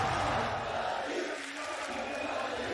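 A large esports arena crowd roars and cheers for Fnatic during a Valorant VCT Champions 2022 playoff match, a dense, sustained wash of noise from many voices at a distance.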